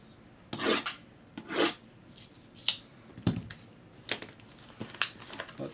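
Packs of trading cards torn open during a live vintage card break: a series of sharp ripping and crinkling bursts of foil wrappers at irregular intervals, close and fairly loud, with no talking.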